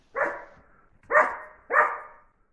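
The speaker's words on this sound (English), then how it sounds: "Yep, Finnegan's barking, so maybe we'll get some dogs here." A dog barking three times in a short, evenly spaced series of sharp, moderately loud woofs heard clearly with no talk.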